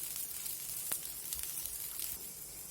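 Faint steady sizzle of food frying in a spoonful of oil until crisp, a soft continuous hiss with a few small pops and no talking.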